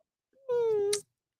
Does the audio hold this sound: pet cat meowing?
yes